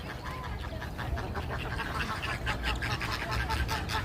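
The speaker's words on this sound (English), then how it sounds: "And these other ducks, they come here and hang out too." Ducks at Lincoln Park Zoo in Chicago quack in a scattered, repeated stream, moderately close and mixed with outdoor crowd murmur and background chatter.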